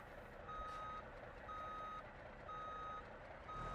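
Reversing beeps from a delivery truck in the BeamNG driving game, Italy career mode: four evenly spaced electronic tones, each about half a second, repeating steadily over a constant low engine rumble.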